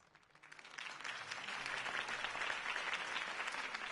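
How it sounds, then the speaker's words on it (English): Crowd applause in a video game swells in after a quiet start, then holds as a dense, steady roar of clapping to the end. "If only Mr. Wayne, my campaign's largest backer, could have heard that applause"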